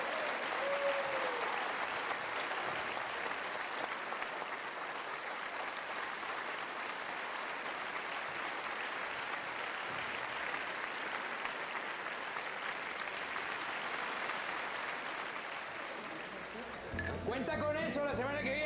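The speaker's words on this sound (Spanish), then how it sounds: "Un aplauso." Sustained applause from a large audience fills the whole stretch, steady and dense, with a few voices rising near the end as it fades.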